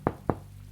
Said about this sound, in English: Whoever it was knocked at the door.